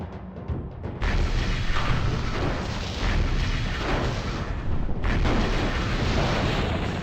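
An enemy vehicle explodes in the video game MechCommander, with a loud sustained booming blast that rumbles for several seconds after a few short clicks and is briefly renewed midway.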